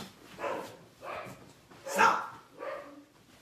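Dogs bark at someone arriving at the house door, four or five loud, close barks spaced roughly half a second apart, with a person speaking over them.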